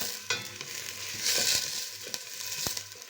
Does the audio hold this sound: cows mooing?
no